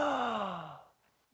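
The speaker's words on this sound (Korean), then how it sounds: "하품 연습. 하품만요." A long, breathy voiced yawn during a voice exercise, a falling drawn-out exhale lasting about a second before fading to silence, close and clear.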